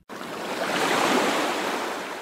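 Beach surf washing in steadily, a broad continuous roar of breaking waves that swells slightly and holds loud throughout, with no voices.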